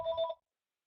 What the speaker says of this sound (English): I'm sorry, a phone was ringing there